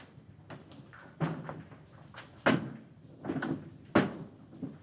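A switch being thrown in a control room, heard as several sharp mechanical clunks and thuds spaced irregularly, fairly close and alone, without any talk.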